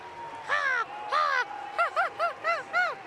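A child imitates an American crow, voicing two long harsh caws followed by five shorter, clipped caws in quick succession, close and clear against a quiet background.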